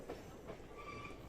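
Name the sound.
old tram running on rails at Beamish museum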